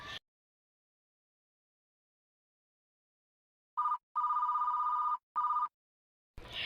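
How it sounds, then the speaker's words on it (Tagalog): Mobile phone ringing after a long silence, three electronic ring bursts in close succession, clear and alone, a short bit of other sound at the very start and end. "Her phone buzzes constantly."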